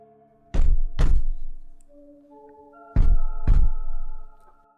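Heavy metallic banging on the far side of a door: two pairs of loud, booming thuds, each pair struck in quick succession about a second apart, with a low hum lingering between them and no voices.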